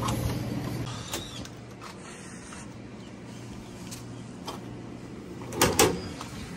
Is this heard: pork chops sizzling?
no